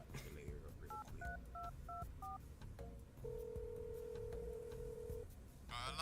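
A string of touch-tone beeps from a telephone keypad as a number is punched in, five or six quick paired tones, followed by a long steady ringback-style tone, fairly close and clear.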